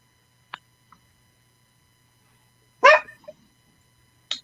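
A dog named Teddy Pendergrass barks in a short sharp burst indoors, preceded by a couple of faint yips and followed after a pause by another quick bark, in an otherwise quiet room.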